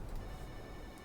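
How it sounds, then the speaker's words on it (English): A telephone bell rings in the Kentucky Route Zero video game, a quiet, steady electronic tone held through the whole short moment with no voices over it. "Telephone rings."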